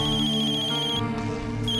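A telephone rings with a repeating electronic trill, loud and steady near the listener, pausing briefly before the tone resumes, with a low room hum underneath.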